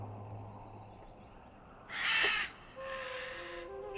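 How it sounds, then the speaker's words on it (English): A crow caws harshly in the video game Gothic II, one loud burst over a steady ambient game backdrop, followed by a fainter drawn-out call. "Shut up, bird."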